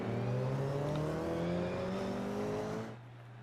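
A Toyota GR86 Cup race car's engine drones loud and steady on board at Long Beach, pitch climbing gradually through the gears before dropping and easing off near the end.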